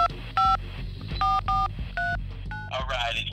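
Telephone keypad tones ring out in a quick, uneven sequence of short dual-pitch beeps, each one loud and close, with a background hum and a brief burst of garbled noise near the end.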